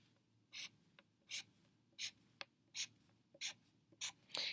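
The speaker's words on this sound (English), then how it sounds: "Now within our chart, within our different periods, I want you to draw 3 lines." Marker or pen drawing three quick lines across a paper place-value chart, seven short evenly spaced scratchy strokes, close and quiet, with no talking.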